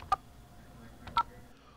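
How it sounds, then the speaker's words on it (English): Two short, clear telephone keypad tones sound about a second apart while a scammers' number is dialed, with a faint hum between them. "When we call the scammers' phone numbers, we got this message"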